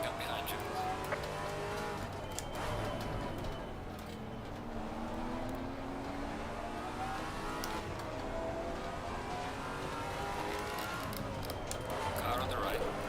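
A Maserati GT4 race car slides around COTA in Assetto Corsa Competizione, its engine droning steadily with rising and falling pitch and tyres scrubbing through the turn. A voice talks over the noise.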